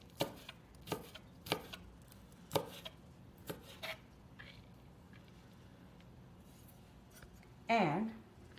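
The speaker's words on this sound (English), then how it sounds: "The one thing that I forgot to mention in my ingredient list was green chili, so I'm going to chop it real fine." A knife finely chops green chili on a board, with several sharp, spaced knocks at first that fade out, then a brief voice near the end.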